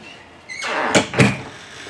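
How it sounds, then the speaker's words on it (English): A sliding door in a 2023 InTech AUCTA Oasis trailer rolls open with a short scrape and two quick thuds close by, in a quiet interior. "we have a sliding door here, of course"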